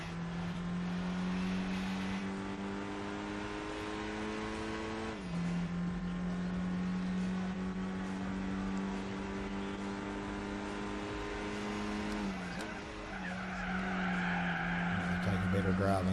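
Renault Megane race car in Gran Turismo 4 one-make cup, steady engine drone that dips and climbs through gear shifts, with tire squeal and a voice talking over it.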